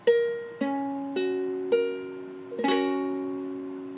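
Ukulele chord from a song tutorial with the A string barred by the first finger, plucked as a few separate clear ringing notes and then strummed together, each sustaining and fading, with no talk.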